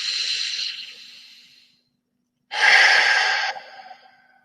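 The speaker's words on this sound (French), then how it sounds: "Une dernière fois, j'inspire." A deep breath drawn in during a guided breathing exercise: a long, close airy inhalation, a silent pause, then another strong rushing breath that fades gradually.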